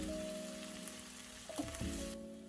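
Chicken liver masala with tomatoes, turmeric, red chili and cumin powder being stirred in a pan, giving a soft steady sizzle with a few scraping stir sounds over a faint background hum.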